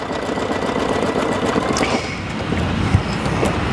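An embroidery machine stitching a folding stitch on fabric held in a hoop, a steady close mechanical whirring hum with a rapid needle patter running continuously throughout.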